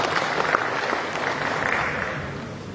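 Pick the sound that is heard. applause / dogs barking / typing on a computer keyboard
applause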